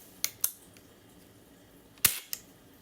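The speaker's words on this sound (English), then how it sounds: "We're just going to listen to the sound of the action, not releasing any air." The action of a Crosman or Benjamin airgun is dry-fired with no air released, giving two pairs of sharp metallic clicks, close and crisp, separated by a quiet pause.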